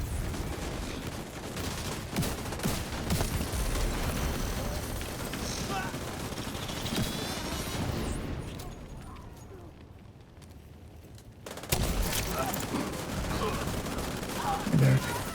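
Sustained rapid gunfire from allied characters shooting enemies in a video game, loud and continuous, dropping away briefly before picking up again, with a player talking over it at times.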